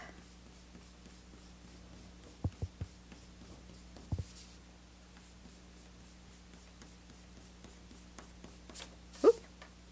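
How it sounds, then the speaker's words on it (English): Pencil grid lines get rubbed off paper with an eraser, quiet scratchy strokes coming in short bursts and scattered scrubs, close and faint, with a few sharper taps and a louder rub near the end. "I'm going to erase all these middle cross"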